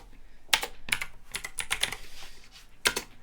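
Fast bursts of keystrokes on a computer keyboard, clustered clicks and taps with short pauses between runs, close and fairly clear, with no talking over them.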